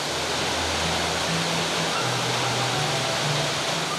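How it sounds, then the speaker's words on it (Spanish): Cascades of the Chuchubí river, a chain of seven waterfalls fed by clear water from the Cotacachi-Cayapas reserve, with drops of up to 40 metres: a loud, constant, broad rush of falling water with no break. "Sus aguas cristalinas nacen en la reserva Cotacachi-Cayapas y forman un espectáculo de 7 cascadas."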